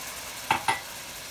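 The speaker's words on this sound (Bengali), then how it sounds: "এখন এর মধ্যে দিয়ে দিচ্ছি 1 কাপ পরিমাণ দুধ।" Vermicelli fried golden in butter in a pan, with sizzling and stirring under a hiss, then two short sharp clinks of utensil against the pan.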